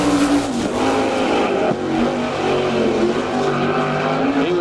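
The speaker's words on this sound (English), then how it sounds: "our final sprint car driver scheduled to take time, moving on to the Speedway right now" A sprint car engine roars loudly and continuously on a dirt speedway during a qualifying lap, its pitch rising and falling as the throttle works through the turns, with no talking.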